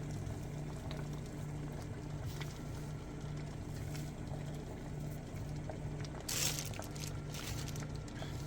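Tap water runs steadily into a bowl set in a kitchen sink while vegetables are rinsed, a continuous gurgling, churning rush heard up close, with a brief splashier burst near the end.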